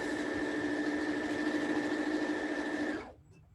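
A sewing machine runs steadily, stitching a seam with a 1/2 inch seam allowance on a bag, its even whirring hum holding at a constant loud level for about three seconds before stopping abruptly.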